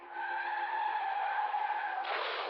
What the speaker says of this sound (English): There is a squeal of brakes and the impact of tearing metal and shattering glass.